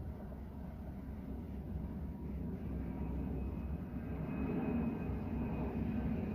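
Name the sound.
jumbo jet flying overhead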